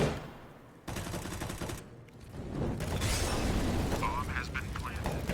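Rifle fire during a Counter-Strike: Global Offensive match on the A site, with bursts of gunshots and rapid firing over game noise while a commentator talks throughout.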